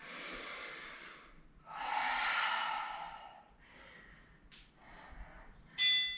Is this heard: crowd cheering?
no